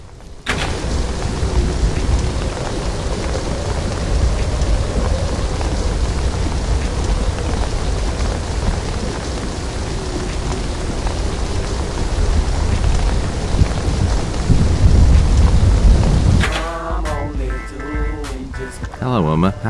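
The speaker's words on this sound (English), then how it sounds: "because of the storm?" Tropical storm with heavy, constant rain hammering down and thunder rumbling beneath it, loud and continuous for most of the stretch before the downpour suddenly drops away and a voice takes over near the end.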